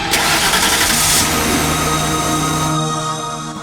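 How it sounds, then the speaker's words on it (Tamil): A car engine cranks and catches close by, then settles into a loud steady running hum that tapers slightly toward the end. "வண்டி எடுங்க, போய் பார்க்கலாம்."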